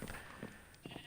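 Sheep bleat on a sheep farm, several short calls coming in bursts at a moderate distance over steady outdoor background noise.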